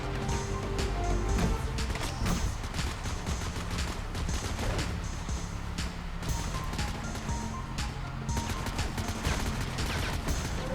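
Gunfire rips through a floor in the mobile shooter FRAG Pro Shooter, dense bursts of rapid shots and sharp cracks rattling on continuously with brief lulls, loud and busy over a low game backdrop.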